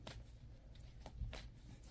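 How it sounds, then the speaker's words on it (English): Close, soft riffling and tapping of a deck of cards being shuffled by hand, a few brief papery flutters over a low background hum. "just kind of shuffle on the cards"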